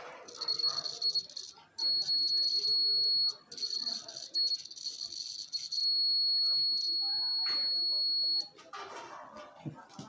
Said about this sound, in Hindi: जब करंट कंटिन्यूसली फ्लो होगा तब यहाँ बीप की साउंड आएगी